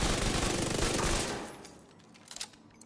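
Sustained automatic gunfire from a video game shooter, The Division 2, roars loud and dense for over a second, then thins into scattered shots and sharper bursts near the end.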